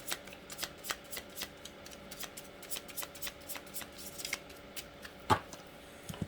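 Cards from a brand-new deck being shuffled by hand, a quick run of crisp riffling flicks and soft slaps, fairly close and alone, with one sharper snap near the end.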